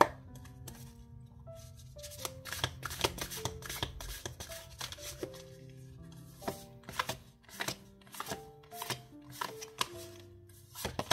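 Tarot cards are shuffled in repeated riffling bursts, close and crisp, while soft background music plays and no one speaks.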